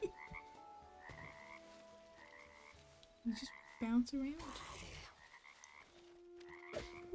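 A frog in the video game Hytale croaking in repeated short bursts of ribbed, buzzy calls, close and clear, with a brief swelling squelch midway and a faint voice talking at one point.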